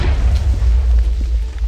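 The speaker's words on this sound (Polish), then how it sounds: "Nie, on się wybuchnął." A Minecraft creeper blows up in a single deep, muffled boom whose low rumble fills the moment and then trails off, with no voices over it.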